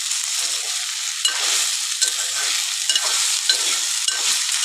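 Okra (bendakaya) frying in a pan for curry, a loud, bright continuous sizzle broken by repeated scraping stirs of a spoon at a fairly even rhythm, close up and without speech.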